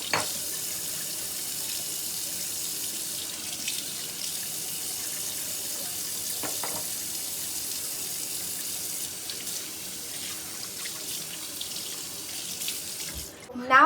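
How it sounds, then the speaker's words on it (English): Tap water runs steadily into a sink as hands are washed with soap, a continuous bright hiss lasting the whole stretch, near and loud with small splashes. "turn on the tap and wash your hands"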